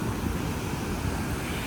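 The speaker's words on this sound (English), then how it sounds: "As you can see, the waves are pretty rocky, really close to shore" Ocean waves break close to shore at Rehoboth Beach, Delaware, a dense, continuous roar of surf mixed with wind buffeting the microphone.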